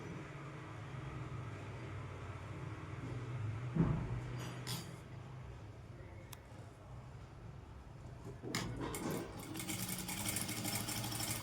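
Sewing machine slowly stitching a silk Punjabi dress top: a continuous low mechanical whir with a few pauses, brief clicks and a burst of rattling near the end, quiet and close.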